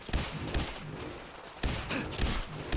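Rapid bursts of gunfire from a weapon in Fallout 4 ring out loud and close, a dense volley of shots with heavy thumps splitting into two clusters.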